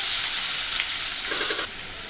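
Sliced medium-sized big onions drop into hot oil for an ivy gourd stir fry, giving a steady close sizzle and hiss that steps down slightly near the end.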